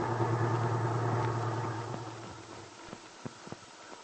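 A small truck pulls into a parking space on Main Street, its engine idling steadily before cutting off, followed by a few soft clicks and knocks, close and fairly quiet.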